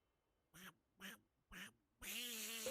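A person imitates a duck with a nasal vocal quack, three short evenly spaced calls followed by one longer, louder drawn-out quack, close to the microphone and with no background talk.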